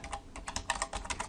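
Brisk typing on a computer keyboard: a quick, uneven run of crisp key clicks, close and fairly quiet, with no voices.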